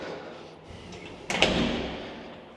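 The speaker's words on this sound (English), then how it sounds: "Check your door, make sure it closes." An apartment door swings shut with a single firm thud partway through, followed by a short lingering rattle, heard close in a quiet room.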